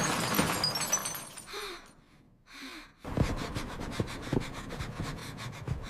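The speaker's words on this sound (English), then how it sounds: "The whole window is shattering into small glass pieces." A house window shatters into small glass pieces, heard as a dense, crackling spray of breaking glass that briefly drops away and then returns as a steady clatter of falling shards, close and loud, with no voices.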